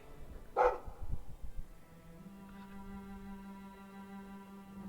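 A dog in the video game Hawke barks a couple of times up close, followed by a few quieter yips over a low steady hum and soft game music.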